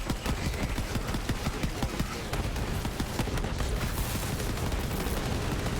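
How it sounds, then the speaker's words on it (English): Rapid bursts of micro missiles launching and exploding in showers of fireworks in the video game Borderlands 3, a dense, continuous crackle of many small blasts with faint talk underneath. "You like all these micro missiles I'm launching everywhere? Yeah. And they just explode in a shower of fireworks."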